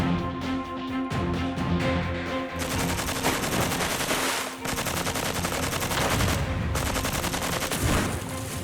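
A Heckler & Koch HK21E belt-fed machine gun, derived from the G3 battle rifle, fires long loud rapid bursts, a few spaced shots first, then near-continuous automatic fire broken by one brief pause.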